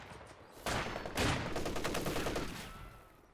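Rattling bursts of MG34 machine gun fire in the strategy game Company of Heroes 2, mixed with battle noise, steady and moderately loud before tapering off, with no voices.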